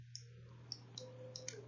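Several light computer mouse clicks, close and quiet, spaced irregularly over a steady low electrical hum with no talking.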